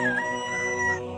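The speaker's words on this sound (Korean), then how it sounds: "이내 닭이 울었다" A rooster crows once, close and loud, a single drawn-out harmonic call that rises briefly and then holds and fades, with no voices present.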